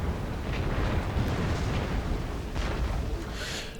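Muffled cannon fire from a battle in the strategy game Empire: Total War, a dense rumbling roar with a few soft booms and bursts rising out of it, moderately loud, with no talking.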